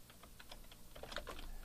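Rapid keystrokes on a computer keyboard while building a web page in Dreamweaver, a string of close, light clicks in an irregular rhythm ending in a slightly firmer cluster of presses including the return key.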